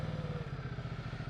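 Idling engine of a Ducati Multistrada 1260 S motorcycle, a steady rapid low throbbing pulse, close and even, with no voices.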